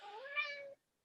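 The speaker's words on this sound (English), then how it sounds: "sorry, that cat is." A single cat named Blue gives one short rising-then-falling meow, close and clear, ending abruptly into silence.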